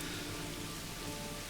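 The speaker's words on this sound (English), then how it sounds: "Raining." Steady rain pouring in the medieval strategy game Manor Lords, a dense, even wash of drops with no breaks, soft and constant throughout.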